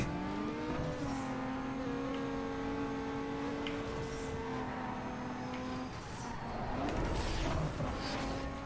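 Engines of street-racing cars drone and rise in pitch in Need for Speed Underground 2, with steady harmonic revving, a dip near six seconds and a louder surge of acceleration toward the end, under a busy game mix.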